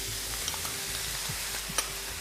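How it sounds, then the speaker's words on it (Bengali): Mixed sauces hit a hot pan of frying spring onion and capsicum, giving a continuous loud sizzle with a few soft utensil clicks and scrapes. "এখন সসগুলো যে মিশিয়ে রেখেছিলাম সেটা ঢেলে দেবো।"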